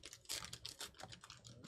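Quick, faint typing on a computer keyboard, a short burst of light irregular key clicks heard alone.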